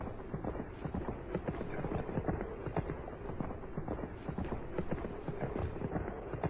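Hooves of mounted warriors' horses clip-clop steadily and fairly loudly throughout, a dense rhythmic trampling from many riders moving together in an animated desert march.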